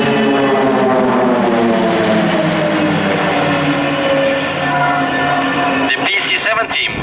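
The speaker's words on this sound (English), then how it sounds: "The PC-7 Team, with its 9 Pilatus PC-7 turboprop aircraft, is the biggest propeller aircraft team in the world." Pilatus PC-7 turboprop aircraft fly in formation at an airshow, a loud droning propeller roar with a slowly falling pitch as the planes pass, ending in a few sharp bursts.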